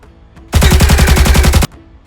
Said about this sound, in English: The Executor will then stand and take aim at the Nun, shooting it 3 times